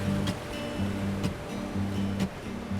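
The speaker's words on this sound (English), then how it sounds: "I mean, it's the energy of the ocean" Rough ocean surf breaks against rocks on Aotea island, a steady roar of churning water with repeated surges and sprays washing in and out, close and loud with no voices.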